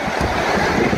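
Rough sea surf pounds steadily against a capsized fast boat off Sanur, Denpasar, a dense, continuous wash of crashing water mixed with gusty wind buffeting the microphone, no voices.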